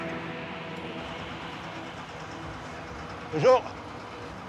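Mauritania iron-ore railway train wagon crossing the Sahara, a steady low rumbling roll heard close and continuous, with a brief greeting spoken over it.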